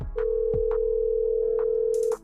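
A telephone call rings out with a steady continuous tone held for about two seconds, close and clear, with faint background thumps and no talking.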